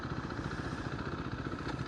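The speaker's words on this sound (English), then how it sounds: "That engine takes a little bit of a while to kind of revs up." Beta Alp 4.0 motorcycle engine running steadily on a new bike during a test ride, a continuous mid-pitched rumble with fast regular firing pulses, close and fairly loud, no talking.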